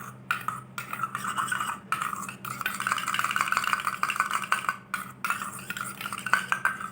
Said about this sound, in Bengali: এটা আমি খুব ভালোভাবে মিক্স করে নেব।